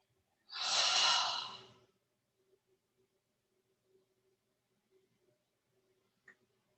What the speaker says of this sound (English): let us take a deep breath in through the nose, and this time just completely empty out the body of breath